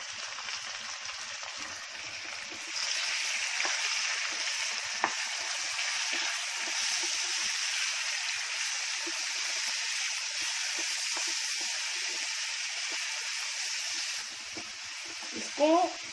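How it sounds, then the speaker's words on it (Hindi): Grated apple fries uncovered in a pan over a high gas flame for halwa, a continuous bright sizzle and hiss running steadily throughout, with a few faint clinks and a brief voice near the end. "इसको बगैर ढाके ऐसे ही उसको तल लूंगी, फ्राई करूंगी फास्ट गैस पे"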